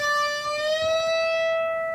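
One guitar note on the second string at the 15th fret, bent up a full step, a clear sustained tone whose pitch slides gradually upward and rings on for about two seconds, fairly quiet and alone.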